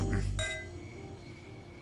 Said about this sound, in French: mais d'abord, on va trinquer